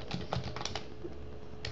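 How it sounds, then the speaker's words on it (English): Fingers typing a word on a computer keyboard, a short burst of close, quiet keystrokes early on, then a pause and one last tap. "now I'm typing"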